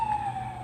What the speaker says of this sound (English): We've got ambulance or a police car.